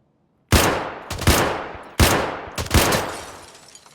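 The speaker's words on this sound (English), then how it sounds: "what kind of gun was that?" A gun in the video game Escape from Tarkov fires four loud, close shots in two pairs, each with a sharp crack and a rolling tail.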